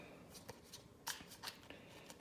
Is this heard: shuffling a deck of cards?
yes